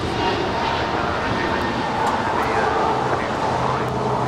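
A four-year-old Alaska Airlines Airbus A321 jet at LAX airport, its engines a steady broad roar that stays loud and constant throughout, with a voice faintly present underneath.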